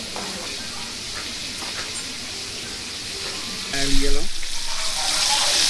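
Curry chicken frying in hot oil, a steady close sizzle and hiss that grows louder near the end as more pieces go in, with brief speech over it.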